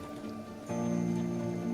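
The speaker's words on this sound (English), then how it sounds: "running through acid rain like I'm doing right now" Acid rain falls in the video game Kenshi as a steady hiss of rain, with a tonal background hum that thickens suddenly partway through, continuing evenly to the end without any talk.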